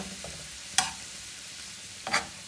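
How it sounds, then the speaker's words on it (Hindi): Yogurt is stirred into beef tawa karahi cooking on a hot tawa. Two sharp spatula scrapes ring out over a soft, steady sizzle, close by and without talk. "दही ऐड करने के बाद अच्छी तरह इसको मिक्स कर देंगे"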